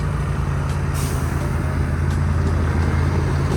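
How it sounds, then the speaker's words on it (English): Heavy trucks loaded with sugarcane rumble past steadily on a road on Negros island in the Philippines, with a constant low engine drone and a brief hiss of air brakes. "And just hundreds and hundreds of trucks loaded with the sugarcane. They're everywhere."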